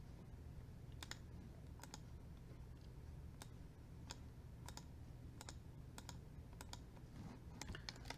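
Sharp, isolated clicks of a computer mouse while placing foliage in a procedural foliage tool, about a dozen separate taps spaced irregularly over a steady low background hum, with no talking.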